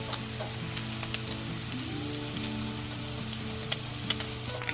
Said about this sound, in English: I'm going to add in 3 slices of bacon that have been chopped. I'm going to cook the bacon until it's fully cooked.